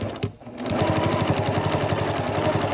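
A sewing machine stitches fabric with contrasting black thread, a loud rapid mechanical chatter that starts after a brief pause and runs steadily to the end.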